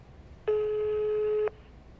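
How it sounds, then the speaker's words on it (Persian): A single steady electronic telephone ring tone, rich in harmonics, sounds once for about a second, clear and alone against a quiet background. "داره تلفن زنگ میزنه"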